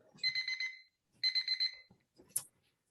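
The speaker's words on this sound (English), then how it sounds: "that's the timer, the annoying timer" A timer alarm goes off during a conference session, sounding in two rapid, evenly pulsed beeping bursts followed by a brief higher chirp, fairly loud and close, with no talking over it.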